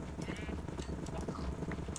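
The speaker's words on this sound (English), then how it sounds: "Oh, there's horses." Horses in a Minecraft mob farm clop their hooves in a quiet, uneven patter with faint animal noises, soft and close, and no talking.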